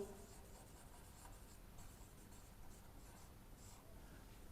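A pen scratches steadily across paper while a student works through a Class 6 maths problem, a soft continuous writing sound that stays fairly quiet and unbroken, with no voices.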